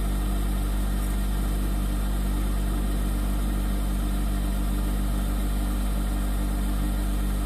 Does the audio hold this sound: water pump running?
yes